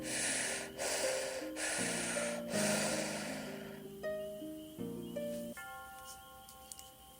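Deep breathing in a shamanic ritual, with several loud, breathy inhales and exhales in the first half, set over sustained music tones that carry on alone after the breaths stop.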